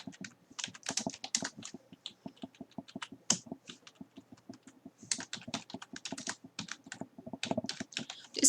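Rapid typing on a computer keyboard, close and quiet, with dense irregular key clicks running steadily throughout and a few louder strokes, no voice heard.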